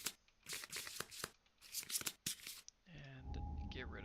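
A deck of cards for the Kingdom Death: Monster board game is shuffled up close in several quick, soft riffling bursts, then the shuffling stops and a faint voice and low background sounds follow.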